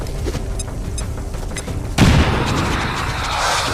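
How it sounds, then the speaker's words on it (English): A frag grenade blast in the tactical game XCOM 2 erupts partway through, a sudden loud boom with rumbling debris that stays noisy afterward, following quieter game ambience with faint clicks and tones. "You're getting frag grenaded, sectoid."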